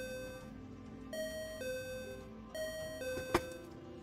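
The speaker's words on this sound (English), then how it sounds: "Oh, also, and the timer's up." A kitchen timer alarm goes off during cooking, with bacon strips frying for a burger: a melodic sequence of clear electronic chime tones stepping up and down, closing with a sharp click.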